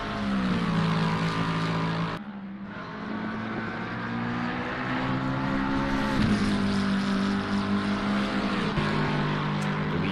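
A Ferrari race car in a racing video game, its engine droning with a steady high-revving whine that dips briefly as it shifts, then holds its pitch with small shifts, loud and continuous without voices.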